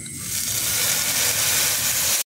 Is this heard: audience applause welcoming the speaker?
no